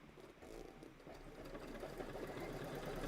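An embroidery sewing machine stitching a Kimberbell placement line runs with a soft, steady rapid mechanical whirr and chatter, faint and continuous, gradually growing a little louder.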